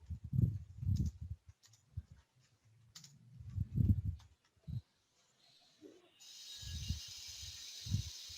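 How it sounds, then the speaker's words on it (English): Typing on a computer keyboard during an online calibration software session, soft irregular key clicks between low thumps and a brief hiss, with no talking. "I will type it over here"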